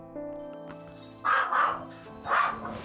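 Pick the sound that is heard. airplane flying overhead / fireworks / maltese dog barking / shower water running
maltese dog barking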